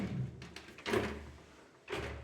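Sliding kitchen door in a Marseille apartment rolling along its track, with a muffled rumbling slide and a soft thud, then a second brief bump as it moves again.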